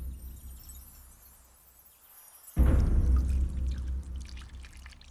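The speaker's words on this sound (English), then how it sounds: "A samurai would wash himself with cold water every morning" Cold water poured over a samurai for his morning washing: a sudden loud splashing gush starts after a quiet stretch and continues as a heavy pour with sloshing and dripping.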